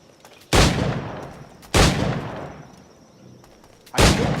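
Three loud, close pistol gunshots in Assassin's Creed 4 Black Flag, spaced about a second or more apart, each with a booming echoing tail.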